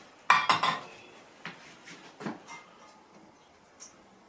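A utensil stirs green beans and potatoes in a bowl for a potato salad, giving a few sharp clinks and scrapes up close at first, then softer, sparser knocks and rustles.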